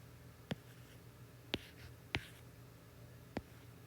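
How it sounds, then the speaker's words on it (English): A pen strikes and drags across a surface in four sharp, separate taps and short strokes, close and quiet over a low background hum. "So let me draw this again."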